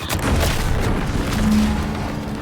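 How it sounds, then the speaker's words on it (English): A heavy booming explosion in The Outer Worlds 2, a loud sustained rumble with crackling debris filling the whole clip, followed by a low hum. "What's that? An explosion?"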